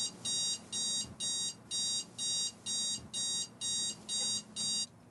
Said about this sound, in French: ce foutu réveil arrêtait pas de sonner